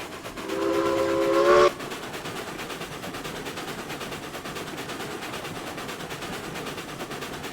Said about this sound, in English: it should have no problem at all pulling this load with this loco